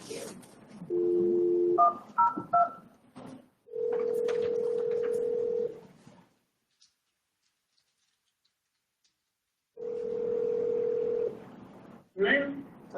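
Telephone keypad dialing tones and steady dial tones while a caller is conferenced in, with short beeps early on and two long sustained tones separated by silence, with talk around them.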